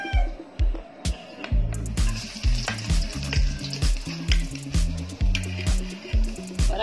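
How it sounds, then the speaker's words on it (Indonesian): Chopped garlic frying in a hot pan, giving a loud, steady sizzle with rhythmic stirring and scraping running throughout, close to the microphone. "Lagyan na po natin yung bawang"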